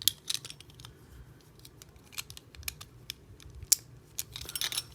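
Beyblade Divine Belial parts being clicked together by hand during assembly: a run of small plastic clicks and snaps at an irregular rhythm, close and fairly quiet, with no talk.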